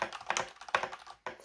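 Mechanical keyboard with foam underneath being typed on, a close, clacky run of keystrokes in quick irregular bursts with a brief pause near the end.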